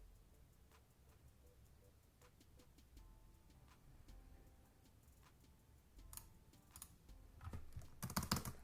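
Light, steady typing on a computer keyboard, close and quiet, with evenly spaced key clicks that grow busier and louder toward the end, with no voices.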